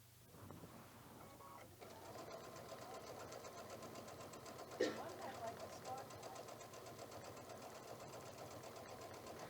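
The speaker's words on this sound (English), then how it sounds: "So now I'm going to stitch, but I'll just go back to my straight stitch." Sewing machine running a straight stitch for free motion quilting, a steady fast mechanical whir and rattle throughout, fairly faint, with a brief louder clack midway.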